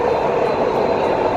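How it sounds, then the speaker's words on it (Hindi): A Dubai tram riding its rails, with a steady loud rumbling roar of wheels and carriage noise, close and continuous with no talk. "और अभी हम हैं ट्रैम पे।"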